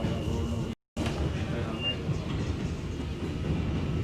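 A New York City subway J train rides through Brooklyn with a continuous, fairly loud rumble and rattle heard from inside the car, broken by a brief cut to silence near the start.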